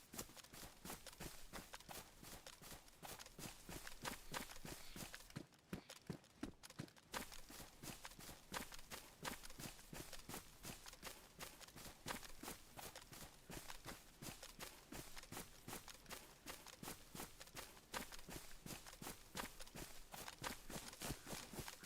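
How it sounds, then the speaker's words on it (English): A player's own footsteps in a survival video game, a steady, rapid run of even thudding steps that carries on throughout with a brief pause in the middle, quite close and with no talk over it. "sometimes you hear the sound of your own footsteps"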